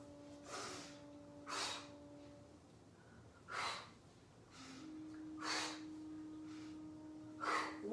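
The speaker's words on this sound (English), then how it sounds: "You can breathe out through the mouth." Repeated forceful exhalations through the mouth during a guided exercise class, about six sharp breaths spaced roughly a second or two apart, close and clear over a soft steady tone.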